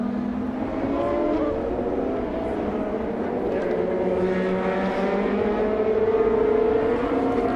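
An IndyCar race car pulling off the pit lane at Indianapolis, engine pitch climbing steadily over a broad ongoing roar of race traffic, loud and continuous.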